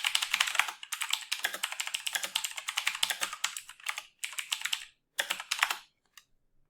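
Keys on a computer keyboard are typed in quick, uneven bursts of crisp clicks, close and fairly quiet, stopping briefly before a final few taps, with no voices.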